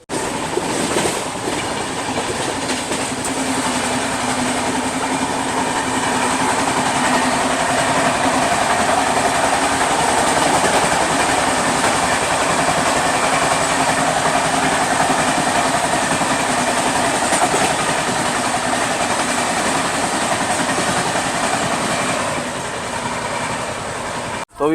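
A passenger train runs along the rails, heard from inside the carriage as a steady rumble with a faint rhythmic clatter, constant and fairly loud.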